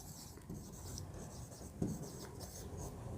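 Pen or marker writing out the d/dx differentiation symbol during a maths lesson, a soft scratchy stroking that comes in short bursts with a firmer tap near the middle, close and quiet.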